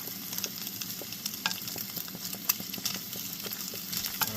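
An egg fries in a greasy pan on a camp stove, giving a steady close crackle and sizzle with scattered sharp pops and no talk over it.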